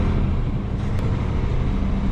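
A loaded farm truck cruises along the interstate near its 98,000-pound legal limit, a steady low engine and road rumble holding constant throughout without talk.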